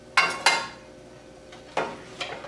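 Stuffed beef burgers are set into a casserole dish: a few sharp clinks and clatters of dish and utensil, two close together at first and then more after a pause.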